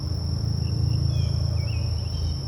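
Honey bees buzzing steadily around an open beehive during a late June inspection, a continuous close hum with a high steady whine above it and no voices.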